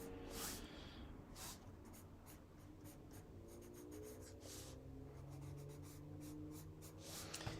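Pastel pencil scratching across a card, a soft, continuous close-up rasp of strokes in quiet surroundings.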